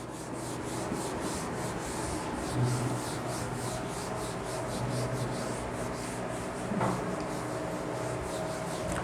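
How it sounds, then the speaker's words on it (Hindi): Steady, even rubbing across a board while writing is erased, a continuous scratchy swishing at moderate volume with faint periodic strokes and no talking. "मैं रब कर रहा हूँ अब।"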